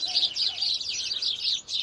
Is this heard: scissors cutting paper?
no